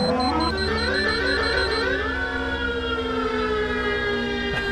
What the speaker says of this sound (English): Use the manual horn repeatedly.